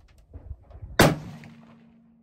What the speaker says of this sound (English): We're going to give it a first shot at the target on the far left.